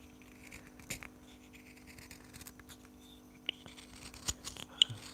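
Close, quiet knife strokes shave a hand-carved wooden spoon, soft scraping passes broken by a few sharp clicks and snaps, with faint hiss in the background.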